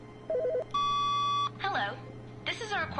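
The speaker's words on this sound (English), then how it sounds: "There's an actual phone ringing." A telephone rings in The Stanley Parable with short electronic beeps and then a sustained tone, and a person talks over it in between.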